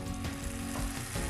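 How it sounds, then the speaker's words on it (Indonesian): Skewered cilok dumplings deep-frying in hot oil, a steady dense sizzle and crackle heard close up with no voices. "Tuh kan ya, digoreng"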